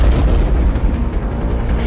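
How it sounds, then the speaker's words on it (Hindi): A cluster bomb explodes over its target, producing a continuous, heavy, rumbling roar of blasts that stays loud and dense throughout. "क्लस्टर बम ऐसे लॉन्च होता है और फिर अपने टारगेट के ऊपर ऐसे फटता है।"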